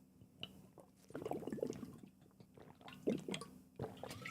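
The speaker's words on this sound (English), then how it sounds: "let me take a sip of water here" Sipping and swallowing water close to a microphone, a few soft, wet slurping sounds in short bursts over a faint hum in a quiet room.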